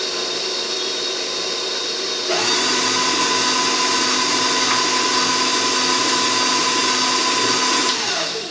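An electric stand mixer beats cheesecake batter. A steady whirring motor starts abruptly after a couple of seconds, runs loud and even, then winds down near the end over a constant background hum.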